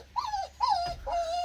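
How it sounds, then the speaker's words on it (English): A distressed dog whimpers in three drawn-out, wavering cries inside a stealth camper van, each whine rising then sliding down, close and alone without talk. "The dog's super upset by the whole process there."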